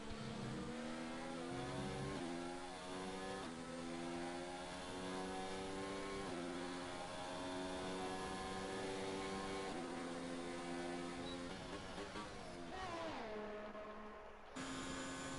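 Racing cars in a sim racing game at a Brazil circuit scream past in a dense pack, engines revving up and down through gear changes with overlapping whines, loud and continuous, with no talk.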